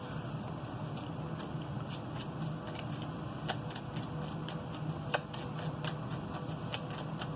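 A tarot card deck is shuffled continuously up close, soft papery riffling with occasional sharper card snaps scattered through, steady and fairly quiet with no talking.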